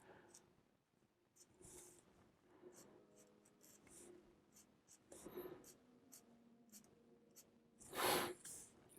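A pencil drawing on paper, filling in a portrait's teeth one by one, gives soft, close scratchy strokes in short bursts, ending with a louder rasp near the end.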